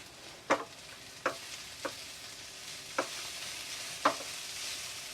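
Onions being stirred in a pan over low heat, a soft continuous sizzle broken by five sharp utensil scrapes and clinks against the pan at irregular intervals.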